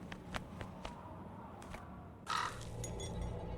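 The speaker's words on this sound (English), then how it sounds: "Wonder what that crow's doing in there" Crow in the Nancy Drew game The Haunting of Castle Malloy giving a few close, harsh caws, alone over a quiet ambient background.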